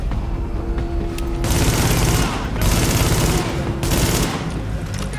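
Sustained gunfire from The Division at the WarrenGate Power Plant on hard mode, with dense bursts of rapid shots in three loud waves and brief lulls between them.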